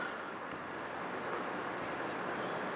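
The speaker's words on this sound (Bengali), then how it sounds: "তাহলে লিখবো এখন" Pen scratching steadily across paper while working out a class eight maths solution, a continuous close scratchy rustle with no pauses.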